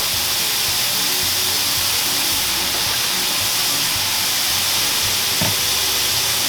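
Shiitake mushrooms and pasta sizzle in a hot pan, a steady close hiss of frying with no talk over it.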